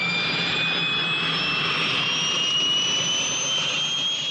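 Aircraft jet engine whining with a steady high-pitched tone that rises slowly as the engine accelerates, loud, with a continuous roar underneath and no voices.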